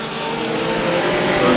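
Race cars in a heat race at Santa Maria Speedway roar past together, a dense, loud, continuous engine drone that swells slightly toward the end.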